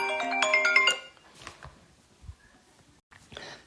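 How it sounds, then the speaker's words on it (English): A mobile phone ringtone chirps in a fast melodic burst for about a second, loud and close, then cuts off, leaving faint rustling and scattered knocks in a quiet room during a maths lesson. "Sorry, my phone started ringing then."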